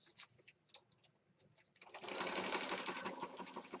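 A sewing machine runs in a steady, dense whir as it stitches black thread through a junk journal page, starting after a couple of seconds of light tapping and handling noises and continuing loud and close to the end.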